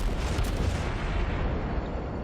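Rapid-firing guns of the Kuma cruiser in World of Warships, a steady rumbling barrage of booming shots that holds loud throughout without letting up.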